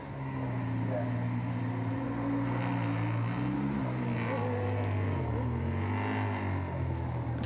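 Golden Era superbikes race at Cadwell Park, engines droning and shifting pitch as bikes pass and accelerate over a hilltop, steady and fairly close, with a commentator talking over them.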